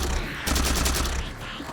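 Gunfire in the video game Halo 4: a short, loud burst of rapid shots with a sharp onset, over a busy game soundscape.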